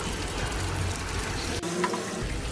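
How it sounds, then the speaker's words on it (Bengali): Mustard paste made from black mustard seeds going into a pan of fried spices, bringing a steady close hiss and sizzle with a brief wet splash partway through, with no talking. "এখন আমি সর্ষে বাটাটা এর মধ্যে দিয়ে দিচ্ছি"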